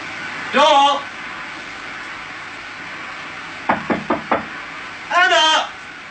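Knocking on a door in a domestic drama scene: a quick series of four sharp raps, close and clear, set between bursts of speech.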